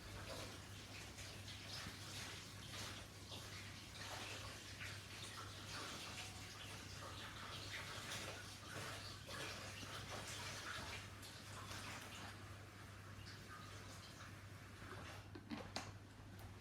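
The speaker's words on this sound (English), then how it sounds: "I'm just washing my dishcloth a minute." Tap water runs steadily into a sink while a dishcloth is washed, a constant rushing wash with faint splashes and a low steady hum underneath, fairly quiet throughout.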